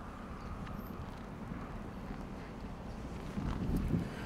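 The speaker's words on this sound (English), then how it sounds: "Winds have picked up just in the last 10 to 15 minutes." Strong wind buffets an outdoor microphone at a live news report in Montana, a steady low roar that swells into heavier gusts near the end, with no voices.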